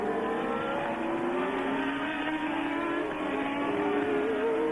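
Formula 1 racing cars at the 1982 Dutch Grand Prix roar steadily with high, whining engine notes that rise and shift as several cars run together, loud and continuous throughout.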